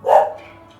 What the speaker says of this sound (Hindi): पड़ोसी कुत्ते भी बोलने लागे